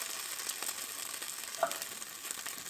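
Potato wedges stood on end in a pan sizzle quietly over a camp stove at a campground in Pine Grove Furnace State Park: a faint, steady hiss with one small pop near the middle.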